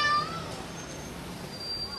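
A house cat, a big tomcat, meows amid a dramatic scene, its cry fairly close and brief over a low steady background hum.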